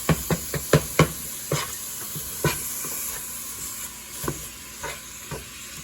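Ground hamburger meat sizzles steadily in a pan while a utensil chops it hard, with a quick burst of sharp scraping knocks at the start and then scattered single chops over the continuous frying hiss.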